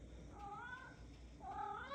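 A pet cat gives two soft, drawn-out meows, one early and one near the end, quiet and close over a low room hum, with no talking.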